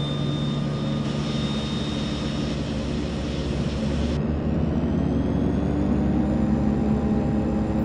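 The left engine of a DHC-6 Twin Otter starting up in Flight Simulator X: a loud, continuous turboprop whine and rumble that holds steady throughout, with a rising tone easing upward and no talking.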